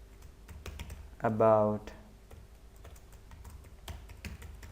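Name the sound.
typing on a computer keyboard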